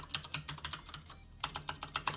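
Rapid clacking keystrokes on a computer keyboard while building a game in Godot, close and crisp, in two quick bursts separated by a brief pause.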